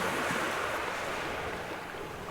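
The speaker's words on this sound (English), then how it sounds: "The river plays a bit louder here because you're very close to the" A river rushes in a continuous, broadband wash, loud and close, with no breaks or voices, used as ambient sound for a Pathfinder tabletop game session.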